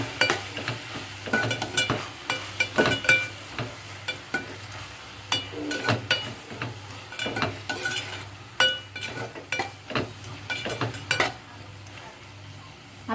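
A utensil stirs salt, red chili, turmeric and mutton masala into liver and spinach in a hot pan, with repeated scraping strokes and light clinks over a soft sizzle, close and moderately loud, no voices.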